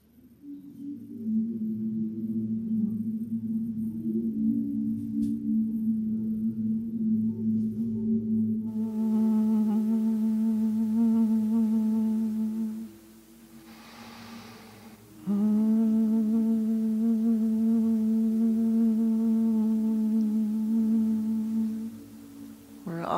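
Congregation humming together in unison during a breathing exercise at a motivational service, a sustained low drone held for several seconds, briefly pausing, then resuming steady and full.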